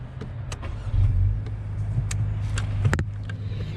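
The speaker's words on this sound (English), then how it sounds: "Push in the clutch and start her up." A 2024 Acura Integra with a manual clutch cranks and starts, its engine settling into a steady close idle with a brief swell near the start and small clicks and knocks from the cabin, no talking.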